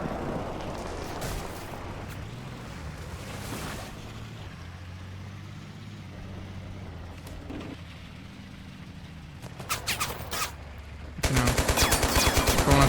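Tank shells and RPG fire in the video game Total Conflict: Resistance: a low rumbling battlefield with scattered distant booms, then a sudden loud burst of rapid gunfire at the end.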